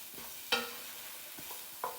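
Spinach stirred in a frying pan, a few sharp scraping strokes of the spatula spaced across a quiet background with faint sizzle, no talking.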